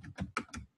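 Quick clatter of typing on a computer keyboard, with about four distinct keystroke bursts in under a second, close and fairly quiet.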